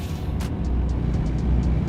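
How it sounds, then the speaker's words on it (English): A truck's engine brake in American Truck Simulator, a low rumbling drone with a rhythmic, pulsing chug that holds steady and slightly builds, accompanied by faint repeated high ticks, no speech. "Using the engine brake here."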